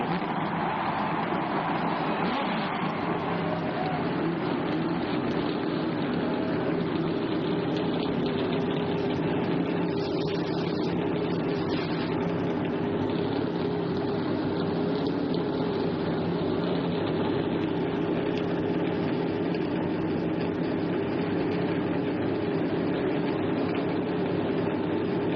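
Race car engines start and run together at the 1999 Daytona 500, a steady loud mechanical drone held for the whole stretch with crowd and track ambience mixed in, no break in the roar.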